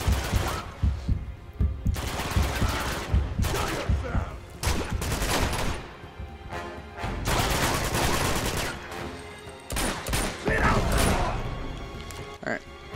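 Gunfire from the Uncharted 2 video game: dense, rattling volleys of shots that come in loud bursts separated by brief pauses, continuing for several seconds.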